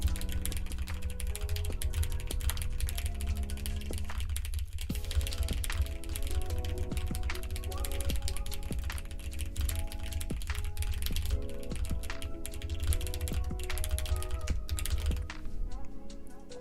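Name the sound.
typing on a computer keyboard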